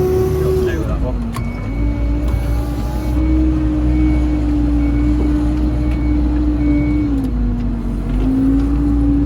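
A tractor drives across a field with a steady diesel drone that holds a constant pitch, dipping briefly as the revs shift, and a voice speaks over the engine.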